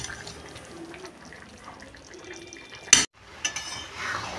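A lid set onto a pot of chicken pulao cooking in a kitchen: a sharp metallic clank over a low simmering hiss, followed by a few lighter clinks as it settles.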